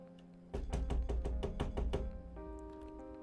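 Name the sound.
pounding knock on a door, from a video game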